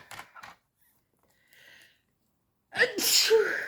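A single sharp sneeze bursts out near the end, loud and close, after a few soft breathy noises and quiet pauses.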